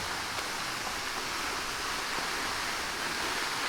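Steady broadband rush of a small stream flowing outdoors on a warm day, constant and close with no breaks.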